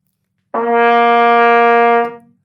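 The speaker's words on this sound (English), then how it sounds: "This is what C sounds like." A single sustained C note on a wind instrument, starting cleanly and held at a steady, loud level for about one and a half seconds before tapering off, played alone.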